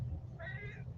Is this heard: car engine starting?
no